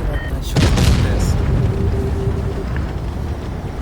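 A heavy tank cannon shot in World of Tanks Blitz, from the tier X tank 183, lands as a loud booming blast with a rumbling tail over continuous battle noise.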